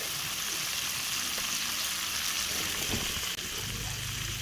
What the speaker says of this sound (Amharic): ሽንኩርት ጨምሬ ሚዲየም ፍሌም በሆነ ሰዓት ሶት ያደርገዋለሁ፣ አበስለዋለሁ